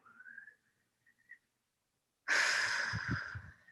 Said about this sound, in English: take a really big, deep breath here